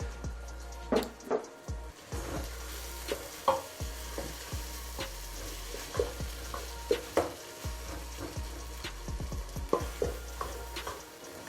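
Corned beef fries in a pan under a steady close sizzle, with irregular scraping and tapping from a spoon stirring it throughout and no talk.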